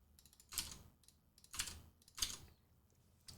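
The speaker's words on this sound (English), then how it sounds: "And type that string out." Keys tapped on a computer keyboard in quiet, faint close bursts of clicks, three main clusters with scattered single taps between.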